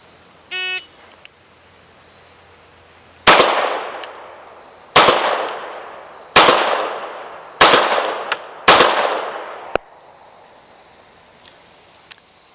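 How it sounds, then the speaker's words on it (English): Five sharp gunshots from a CZ P09C Nocturne pistol fired at 25 yards, loud and spaced about a second or so apart, each with a short ringing decay, preceded by a brief electronic timer beep. "And finally, 5 body shots from 25 yards with the P09C Nocturne."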